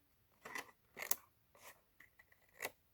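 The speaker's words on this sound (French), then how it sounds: "je suis en train de couper tous les petits picots" Small scissors snip the little tabs off a greeting card in a handful of crisp, close cuts at uneven intervals, quiet and with no talking over them.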